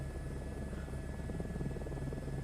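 Continuous droning helicopter engine in a video game, steady and fairly quiet with a constant buzzing hum and no pauses.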